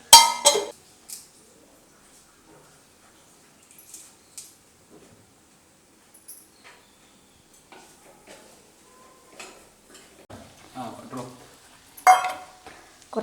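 Aviyal vegetables and cooked jackfruit seeds stirred together in a pot, with scattered soft scrapes and clinks of a spoon against the vessel, mostly quiet with a louder clatter at the start and near the end.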